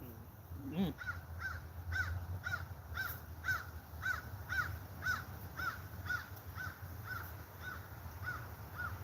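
Repeated crow caws sound outdoors at a steady rhythm, about two per second, fairly near, over low rumbling background noise.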